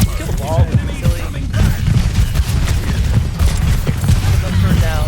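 Overwatch gunfire on the Dorado map, dense continuous bursts of shots and impacts, loud and busy, with a voice talking over the game noise.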